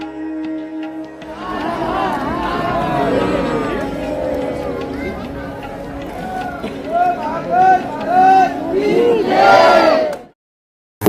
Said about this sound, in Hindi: भीड़ कितनी ज़्यादा है आप देख सकते हो